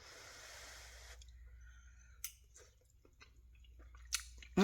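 Close, quiet chewing during a taste test of a home-cooked meal, with soft wet clicks and a few sharper smacks, after a brief hiss of background noise at the start.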